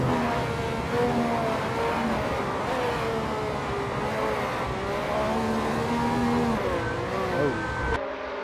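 Race car engine from a 1967 Ferrari 312 in a racing video game, on heavy throttle out of a corner at Bridgehampton, a continuous loud, wavering engine howl with pitch swings as the rear steps out, under steady commentary.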